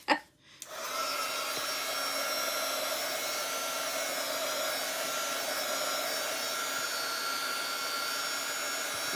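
A heat tool switches on with a brief startup thump and then blows in a steady, loud, whooshing roar with a faint whine, drying craft paint close by.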